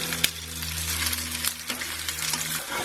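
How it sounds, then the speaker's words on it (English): Chicken kofta meatballs fry in a pan with a steady sizzle and a sharp clatter as they are flipped, a steady hum running underneath. "I'm going to flip them over and give them about a minute or two on the other side."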